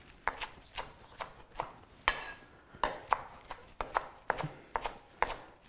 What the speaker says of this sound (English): So just run your knife through the spinach.